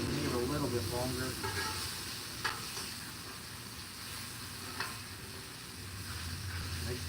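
Chicken and peppers frying on a Blackstone griddle, a steady loud sizzle with scraping stir noises and a couple of sharp spatula clacks, with talk over the cooking.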